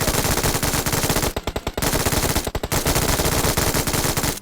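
Rapid automatic gunfire in PUBG Mobile, long sustained bursts of rattling shots broken by two brief pauses, loud and close.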